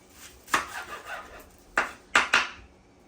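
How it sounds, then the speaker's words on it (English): Knife chopping an onion on a board for game-day cooking, four separate sharp thunks spaced irregularly, close and clear with quiet gaps between. "go ahead and chop this onion"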